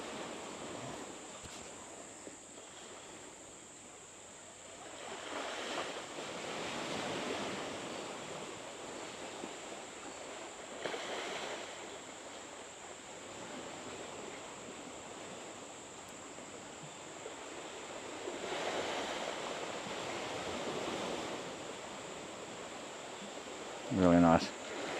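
Sea waves wash in at high tide at Flying Fish Point, a faint, distant surf that swells and fades under steady wind noise, with a brief louder knock near the end.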